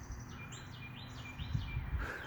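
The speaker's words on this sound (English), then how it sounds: "One of them red damn birds." A red bird calls outdoors in a few repeated chirping phrases, moderately near over a quiet background.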